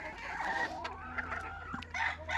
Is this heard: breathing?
no